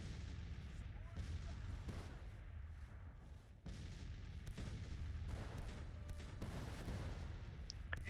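Artillery fire in the video game Grand Tactician: The Civil War, heard as repeated dull, distant booms under a constant low battlefield rumble, fairly faint, with some talk over it.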